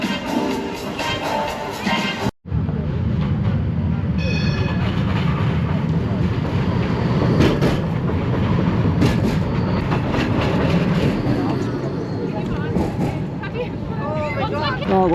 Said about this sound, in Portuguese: Aqui é onde passa o metro.